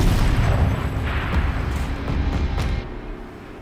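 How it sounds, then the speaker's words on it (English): A turret cannon fires in the video game Horizon Zero Dawn. A heavy, booming blast rolls out and decays over a few seconds under dense low rumble. "Rotate turret! And fire!"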